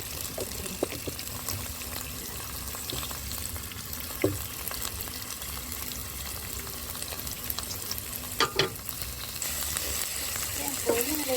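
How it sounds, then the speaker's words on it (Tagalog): Garlic and onion sautéing in a pan for a Filipino mixed-vegetable dish, a steady soft sizzle and crackle with occasional stirring clinks, moderately quiet and close, with no talk over it. "magigisa na po ako ng bawang at sibuyas"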